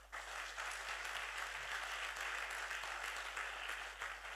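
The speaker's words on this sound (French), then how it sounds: "On peut acclamer le Seigneur pour lui." A church congregation clapping together, a steady sustained wash of applause from a crowd lasting several seconds, fairly faint and even without any voices over it.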